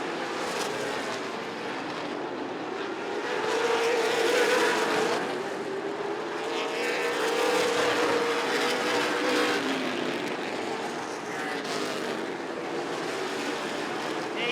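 Big 8 late model stock cars race a 188-lap feature on a short track at the National Short Track Championship, a steady loud engine roar swelling and fading as cars pass, with no talk.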